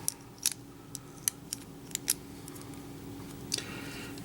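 Plastic parts of a Transformers Masterpiece Optimus Prime MP10 toy gun being folded up, giving a handful of sharp, close clicks and snaps spread irregularly over a quiet room.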